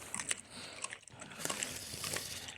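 Close, wet biting and chewing of chicken korma, with irregular crunchy bites and smacking mouth sounds, loud and near with no talking.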